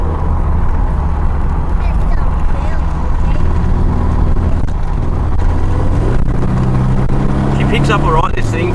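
An old V6 car with an automatic gearbox pulls away and accelerates: a loud, continuous engine drone, with the pitch rising steadily toward the end.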